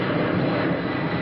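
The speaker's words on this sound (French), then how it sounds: "Ça, c'est un 747." A Boeing 747 jet airliner roars steadily overhead above a city, a loud, continuous broadband engine rumble with no pauses.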